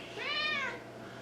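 One drawn-out meow from a cat rises and falls in pitch over about half a second, close and distinct above a low background hum, with nobody talking.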